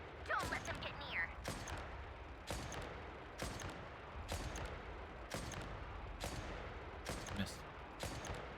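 Sniper rifle shots ring out in a Genshin Impact battle, sharp cracks landing at a steady rhythm of roughly one per second over a constant game soundscape.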